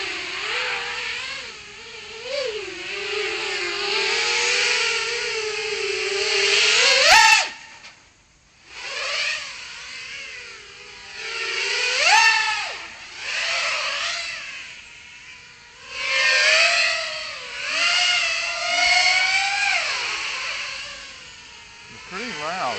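An FPV racing drone flying on Foxeer Dalprop 5145 toroidal donut propellers, making a loud, whining motor buzz that swoops up and down in pitch as the throttle rises and falls, nearby, with a voice talking over it.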